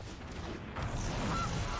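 A goose honk sound effect from the card game MTG Arena, a couple of short nasal calls played fairly quietly on their own.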